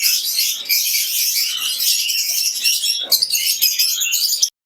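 Imported lovebirds in an aviary, a busy chorus of shrill chirps and tweets overlapping in quick, irregular bursts, loud and close, with no voices.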